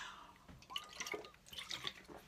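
Water trickles and drips into a glass in short uneven splashes and gurgles, close but quiet, in an otherwise still room.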